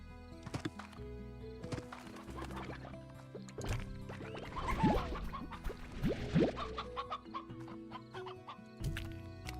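A chicken clucks in a Slime Rancher ranch scene, with scattered soft clucks and a couple of squawks over a faint game-music background, fairly quiet.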